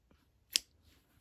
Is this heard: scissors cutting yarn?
yes